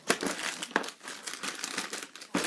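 A plastic bag holding Arcadia Quest board game packs of miniatures, tokens and dice crinkles close up, with a few sharp crackles and steady rustling in between.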